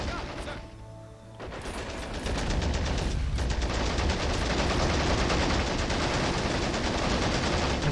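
Heavy, sustained machine gun fire in Men of War Assault Squad 2, rattling bursts that build into a continuous loud barrage after a brief lull, with battle noise mixed in.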